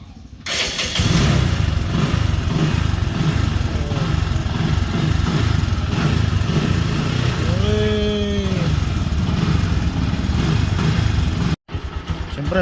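A Bajaj motorcycle on a new Dayway maintenance-free battery cranks and fires up, then settles into a steady, close idle that runs to the end. A person speaks briefly over the engine.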